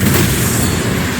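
A loud, dense flash-bang explosion attack in the fantasy action game Tales of Arise, a sustained blast of roaring noise filling the whole moment without a break.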